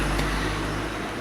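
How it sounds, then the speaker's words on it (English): Car rolling slowly along a 40 mph road beside a valley, a steady low rumble close by with broadband road noise and no talk. "This car's going pretty slow, actually."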